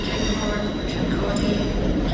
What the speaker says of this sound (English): Departing out now is the 1200 Scotrail service starting here at Edinburgh Waverley